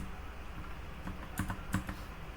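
Keys clatter on a computer keyboard as code is typed, with a few quiet, close clicks that cluster into short bursts.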